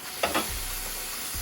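Food sizzles on Sear N Sizzle GrillGrates inside a Ninja Foodi Grill, a steady low hiss broken by two brief clattering touches near the start.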